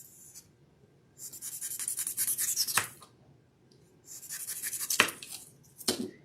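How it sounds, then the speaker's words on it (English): Knife or blade slicing through craft foam while carving a rock shape for a Little Mermaid craft, close-up scraping and rubbing strokes in bursts with pauses, ending in two sharp cuts, no talking. "I'm going to cut a little bit more out of that."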